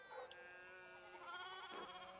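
Sheep bleat in the video game Pentiment, several overlapping wavering cries with harmonics, one sharp call early and more bleats later, steady and fairly close with no talk.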